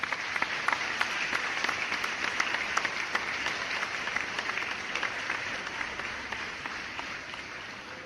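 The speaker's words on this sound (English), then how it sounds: "let's give them an applause" A crowd applauding steadily throughout, dense clapping at an even level with a few sharper individual claps standing out, no talking over it.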